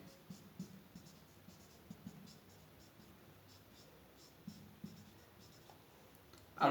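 Chalk or marker scratches in short, spaced strokes on a board during a chemistry lecture on equilibrium, faint in a quiet room, ending with a sudden louder noise.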